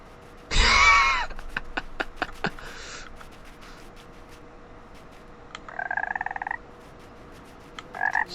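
A small frog in the video game Everything croaks in a few short, sharp bursts, one loud and close near the start and quieter ones later, separated by near silence.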